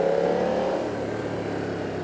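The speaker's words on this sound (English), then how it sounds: "The engine seems fairly powerful." A BMW F 900 R motorcycle engine on a test ride in Mumbai drones steadily at mid pitch, a brief continuous revving hum with no talk.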